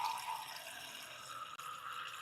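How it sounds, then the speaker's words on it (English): Water poured into a coffee maker's reservoir, a soft continuous trickle and splash that runs steadily with a brief break near the end. "I probably need to add some water to my coffee maker"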